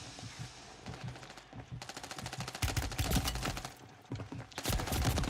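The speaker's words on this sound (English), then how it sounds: "We hear the sniper, but I don't see him anywhere." Rapid bursts of gunfire crackle in a video game shootout, with dense repeated shots in several volleys that swell louder toward the end, close and without talk.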